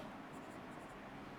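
Pen or chalk writing on a board, faint quick scratchy strokes in two short bursts over a low steady background hum, with no voices.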